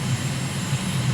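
Steady drone of an airplane engine in a flight simulator game during flap lowering, a continuous low rumble with slight pulsing, close and loud throughout.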